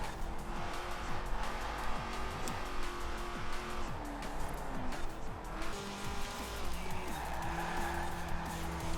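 Car tires skid and squeal through repeated oversteer slides in the racing game Forza Horizon 4, the engine whining and shifting pitch beneath continuous, loud screeching with no talking.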